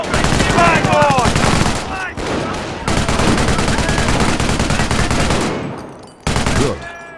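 Sustained World War II gunfire in Company of Heroes as British troops fight German infantry: loud, rapid machine-gun bursts and scattered rifle shots, with short gaps before the firing resumes, and voices shouting beneath the shooting.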